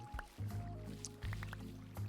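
Water trickling and dripping into a cave in a Minecraft world: soft liquid drips and small splashes repeating irregularly, fairly faint, mixed with low game ambience.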